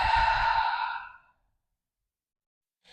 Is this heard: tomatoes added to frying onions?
no